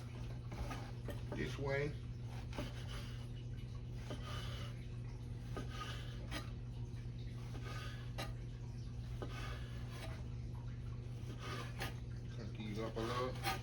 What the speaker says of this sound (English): I'm cutting the croutons.